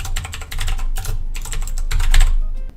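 Code typed on a computer keyboard, with rapid, close clicking keystrokes in uneven bursts and a brief pause, alone with no talk.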